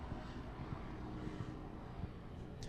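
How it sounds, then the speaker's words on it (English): A low-flying helicopter passing overhead above a garden, a steady rumbling drone with faint rhythmic rotor thumps throughout. "I wonder if our listeners can hear the helicopter"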